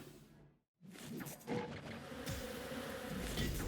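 Bees buzz in the Phobies video game, a continuous insect drone after a brief silent gap, steady and fairly loud with swishing effects layered in.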